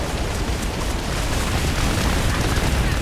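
Auto-firing ship turrets in Starfield space combat, a dense, continuous barrage of booming bursts and rumbling impacts layered into a loud, unbroken roar with no talk.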